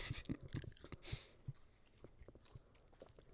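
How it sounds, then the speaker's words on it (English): Close, quiet chewing of sugary food: a quick run of crunchy bites, then softer, irregular mastication noises that fade toward the end, with no talk. "You gotta get the chewing sounds"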